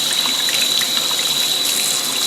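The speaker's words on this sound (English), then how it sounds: "run some water through it" Tap water runs steadily through an Iwata airbrush into a sink, a loud, continuous hissing gush with no breaks.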